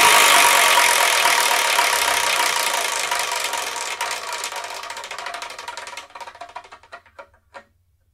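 A prize wheel spun to pick the next manga to review, a loud whirring clatter of rapid ticks that gradually slows, spacing out into a few final clicks before stopping.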